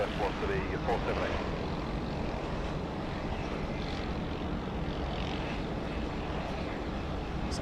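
A propeller airliner roars continuously and loudly while landing at Sydney Airport, a steady engine drone with an air traffic control voice talking over it.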